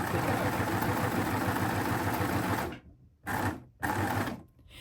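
An overlocker stitches a three-thread decorative edge with a loud, rapid, continuous mechanical whirr, then slows into short stop-start bursts, with no talking.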